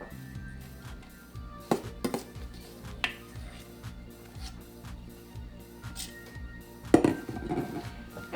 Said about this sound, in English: let's get these egg whites in here